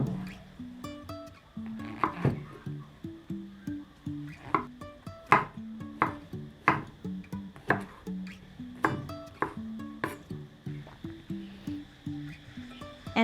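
Knife chopping mushroom finely on a cutting board for a Thai omelette, a steady run of sharp, close taps repeating in quick rhythm with tonal clicks, no talking.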